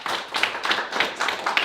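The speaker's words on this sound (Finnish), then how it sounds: "Joo, annetaan taputukset." An audience at a lecture day applauds, a brief run of clustered, fairly close handclaps with a loose rhythmic pulse and no speech.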